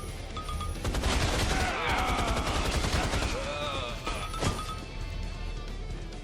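Dense in-game gunfire from Rise of the Triad (2013), a continuous fusillade of rapid shots with a sharp louder blast near the end, heard loud and close under other game sounds, with someone talking over it.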